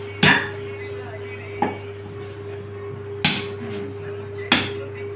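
Goat leg mutton being chopped with a heavy knife, four sharp separate impacts spaced a second or more apart over a steady low hum, the second one softer.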